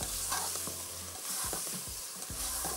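Chicken and rice stir-fried in a pan, with steady sizzling and repeated scraping strokes of a spoon or spatula across the metal, close and continuous without any talking.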